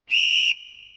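A traffic police officer at a road signal gives one short, loud, shrill whistle blast that drops to a quieter trailing tone before cutting off.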